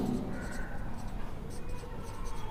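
Pen scratching across paper as a sentence is written out during an English grammar lesson, producing short strokes in quick bursts over faint room noise.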